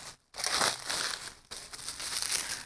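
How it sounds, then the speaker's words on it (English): Packaging is crinkled and pulled away from a DTF printer heating base, producing close, continuous rustling and crumpling with one brief pause near the start and another short dip midway. "I'm gonna go ahead and unwrap now our heating base"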